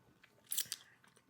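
Crisp crunching bites into crunchy chips, a couple of sharp bursts mid-clip followed by fainter chewing, close and fairly quiet with no talk.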